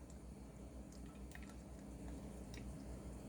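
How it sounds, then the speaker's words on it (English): Degreaser solution trickles and drips softly as it is poured back into a bottle, faint and close with small splashing. "I'm going to pour this back into my bottle."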